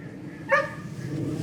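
A dog gives a single short bark or yip, moderately close, over steady outdoor background noise during calmness training near other dogs.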